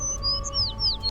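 A sparrow chirps in a short run of high, thin tweets and quick swooping calls, clear and close, over a low steady background hum.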